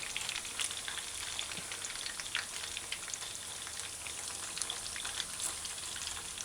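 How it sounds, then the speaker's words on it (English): Fish chunks sizzle and crackle steadily in a frying pan for a stew, a dense, close spitting hiss with scattered pops and no talking. "let's allow it to fry on the other side"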